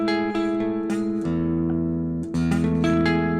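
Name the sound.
guitar notes, 9th fret of G and B strings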